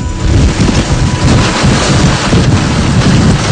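Heavy typhoon rain pours down in a steady loud roar, with wind buffeting the microphone and low rumbling throughout, a dense unbroken storm wash.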